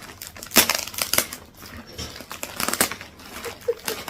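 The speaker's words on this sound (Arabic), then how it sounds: "خلاص انت لازم تقطعي الكيس" A plastic bag is crinkled and torn open up close, giving loud, irregular crackling and rustling bursts, the sharpest just after the start and around the middle.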